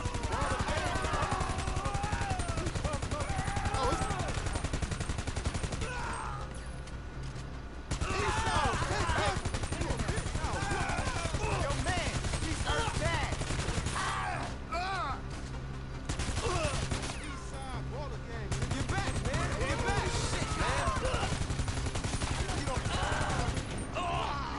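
Heavy rifle fire in GTA 5 Online, dense bursts of rapid gunshots nearly continuous with brief lulls, over game noise and intermittent voices talking.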